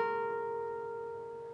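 A single electric guitar note rings out and slides up two frets to the 16th fret on the G string, then sustains clearly on its own, slowly fading over a second and a half.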